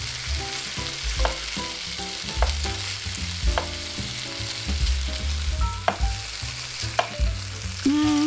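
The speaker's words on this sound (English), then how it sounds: "Oh, the bacon is almost cooked." Bacon frying in a pan, with sizzling and repeated scraping, clattering stirs and knocks of a utensil against the cookware, close and busy with irregular rhythm and no talking.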